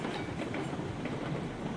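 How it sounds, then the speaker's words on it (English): Freight train at top speed in the RailRoads Online video game, a dense continuous rumble of rolling wheels and rail clatter, loud and steady throughout. "Freight train going at top speed"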